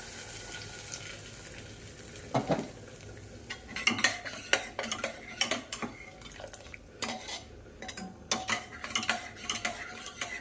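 Fried tomato and onion go into a pot of dal and are stirred in, a spoon clattering and scraping against the metal pot in quick, fairly faint bursts with a few louder knocks.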